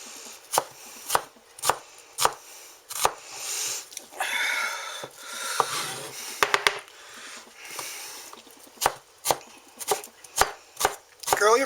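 Knife chopping food on a cutting board while cooking chicken Dijon Parmesan, a run of sharp, close, evenly spaced chops that pause midway for softer scraping and shuffling before the steady chopping resumes.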